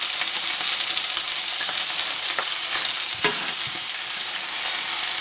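Garlic sizzles loudly and steadily in a pan for Thai red curry, a dense hiss with small crackles and a few stirring scrapes, and no voices.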